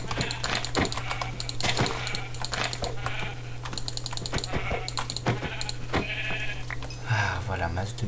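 Sheep bleating in the Minecraft video game, short repeated bleats mixed with steady keyboard typing, a constant low hum and game sounds, with a voice talking throughout.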